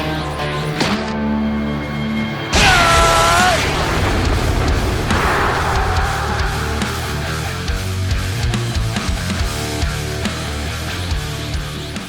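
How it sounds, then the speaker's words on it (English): An anime energy-blast explosion as Vegeta destroys his foe in Dragon Ball AF, a sudden loud boom followed by a long roaring rumble mixed with music and effects. "With Vegeta more or less exploding his foe"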